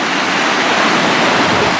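A river in the San Gabriel mountains rushes steadily nearby, a loud, even broadband wash of flowing water with no pauses or voices.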